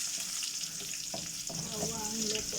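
Garlic sizzles steadily in a hot pan for a Filipino sautéed eggplant and water spinach dish, a continuous close frying hiss with a few faint utensil stirs.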